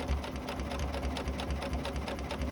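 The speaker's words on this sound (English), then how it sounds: "I'm going to sew nice and slow because I don't want to accidentally stretch it." A sewing machine runs slowly and steadily, stitching jersey knit fabric with a twin needle, its even mechanical chatter sounding close and continuous without any talking.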